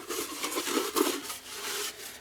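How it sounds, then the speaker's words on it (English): A bush pot scrubbed out with sand and grit in the field, a close, gritty, rasping rub repeated in short uneven strokes with no talking. "You can hear that sand and grit"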